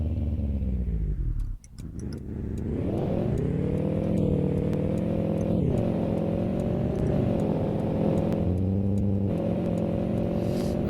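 A modded car engine in Euro Truck Simulator 2 dips briefly near the start, then climbs and holds a steady, loud acceleration drone with rising harmonics, continuous throughout.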